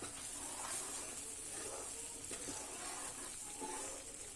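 Chole curry of kabuli chana in a tomato puree base simmers under a lid, giving a faint, steady sizzle and hiss with soft bubbling throughout.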